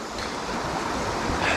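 The flooded Chérin river rushing in spate, a loud, steady broadband roar of fast-moving water heard close with no voices.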